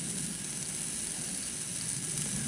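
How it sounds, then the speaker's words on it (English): Breakfast frying in a pan on a Thursday morning, a constant crackling sizzle with fine spitting pops and a soft hiss, close and steady throughout. "I've just started cooking breakfast"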